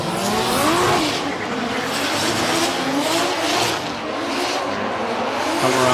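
Nissan Silvia S14 and S15 drift cars battling at Okuibuki Motorpark in Shiga, engines revving hard and rising and falling as they slide through a corner, with tire squeal mixed into a loud, continuous roar.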